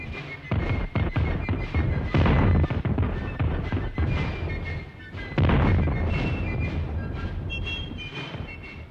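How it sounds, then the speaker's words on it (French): Artillery cannons from a Napoleonic-era battle in Italy fire in a heavy, rapid barrage of loud booms and rumbling blasts, one after another, with clanking and rattling mixed in and no voices. "L'artillerie est démasquée. Elle fait pendant 10 minutes un feu terrible."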